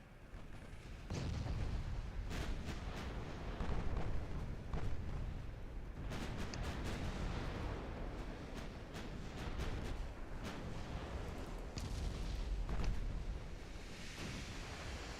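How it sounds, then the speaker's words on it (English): In the naval video game Ultimate Admiral Dreadnoughts, a warship's main guns fire in repeated heavy booms over a steady wash of sea and wind, the blasts landing irregularly across the stretch. "Why are you firing your main guns at a destroyer?"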